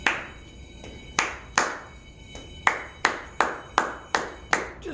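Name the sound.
hand clapping a rhythm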